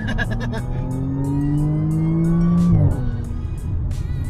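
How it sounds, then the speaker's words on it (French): An Audi S4 B8 saloon with 460 horsepower accelerating hard, its engine note climbing steadily in a loud, rising drone before a sharp gear change drops the pitch and the pull continues, close by. "sur cette dernière accélération, grosse accélération de Greg"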